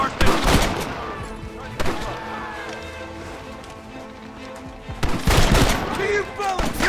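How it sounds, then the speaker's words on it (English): A Gatling gun in Red Dead Redemption fires in two loud, rapid bursts, one at the start and one near the end, with galloping hooves and voices between them. "You man the Gatling gun, Marston!"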